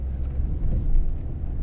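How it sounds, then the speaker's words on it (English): A Mercedes car drives through Peyia village near Paphos, Cyprus, its engine a steady low rumble with road noise heard from inside the cabin. "I'm driving the Mercedes, the best car ever made by the world"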